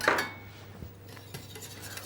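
A whisk clinks and scrapes against a pan while custard sauce with sugar is worked, sharp metallic taps over a quiet background.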